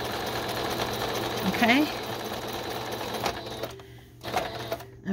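A sewing machine runs in a steady mechanical whir, stitching fabric and lace for a junk journal pocket page, with a short pause and restart near the end while a person talks briefly over it.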